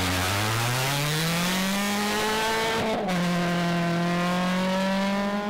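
A Ford Fiesta rally car on a stage, its engine revving high and steady, briefly dropping at a gear change before climbing again, loud and close with no talk.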